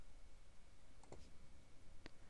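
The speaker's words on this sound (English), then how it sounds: "To save what you have scanned, click on the Save button at the bottom of the screen." A mouse click on a Save button in inventory software, a few faint, sharp clicks against a quiet background: two close together near the middle and one more a moment later.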